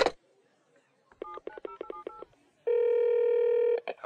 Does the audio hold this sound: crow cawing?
no